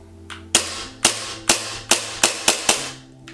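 Tokyo Marui Glock 34 gas blowback airsoft pistol dry firing on an empty magazine with the slide stop held, eight sharp metallic clacks in a quickening rhythm, close and loud, each with a brief hiss of gas.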